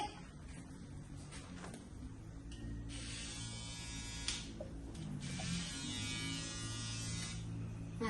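An electric hair clipper buzzes steadily at a barber's, held close with a constant hum that shifts in tone as it moves over the hair, running the whole time with no speech.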